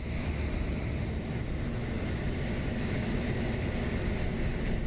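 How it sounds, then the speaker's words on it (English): Auxiliary power unit of a C-17A Globemaster in Microsoft Flight Simulator 2024 spooling up, a loud steady broadband roar with a high whine running continuously throughout. "APU coming to life."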